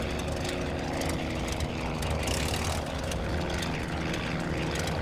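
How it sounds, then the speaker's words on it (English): Steady droning propeller engine of a World War I fighter plane idling on the ground in Wings Over Flanders Fields, loud and continuous with no speech over it. "Let's turn off the engine."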